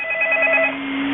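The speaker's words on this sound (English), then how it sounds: "And of course I get a phone call" An incoming call rings on a telephone, a steady electronic tone at moderate volume that fades partway through over a constant low hum, with no voices.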